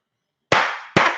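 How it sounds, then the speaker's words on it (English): Two sharp explosive bangs go off about half a second apart, each loud and close with a short fading tail, with no other sound around them. "that's an explosion right there"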